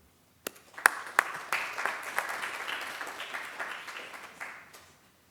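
Audience applause swells to welcome a speaker at a palliative hepatology lecture, steady clapping from a room of listeners that begins abruptly and fades out after about four seconds.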